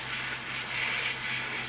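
Steady airbrush spray gun hiss, a dirty, heavily used gun spraying Vallejo acrylic aqua gloss paint, one continuous close airy rush with no pauses and no voices.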